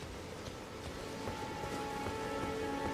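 Steady rain falls in Elden Ring's game world, a constant hiss of drops on surfaces without pause, with faint low rumbles and a few thin tonal layers of game ambience underneath.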